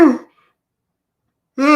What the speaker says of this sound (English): I just said yawn and then I had to yawn